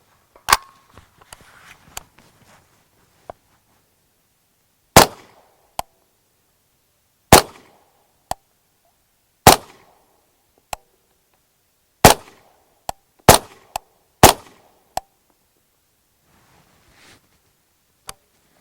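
Suppressed 9mm pistol shots through a Liberty Mystic X silencer, about ten sharp, loud cracks fired at irregular intervals, each clipped short and followed by near silence.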